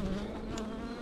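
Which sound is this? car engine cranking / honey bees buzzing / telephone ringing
honey bees buzzing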